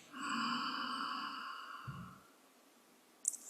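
A slow, deep breath drawn in during a guided relaxation exercise, a soft airy sigh lasting about two seconds, close and calm, followed by a brief faint exhale and quiet.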